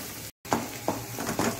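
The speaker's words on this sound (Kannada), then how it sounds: "ಈಗ ಇದನ್ನು ಒಳ್ಳೆ ಆನಿಯನ್ ಚೆನ್ನಾಗಿ ಒಂದು ಬ್ರೌನ್ ಕಲರ್ ಬರುವವರೆಗೆ ಇದನ್ನು ಹುರಿಯೋಣ" Onion frying with spices in a pan for avalakki pulav: a steady close sizzle broken by four or five short bursts of crackle and stirring, after a brief silent gap near the start.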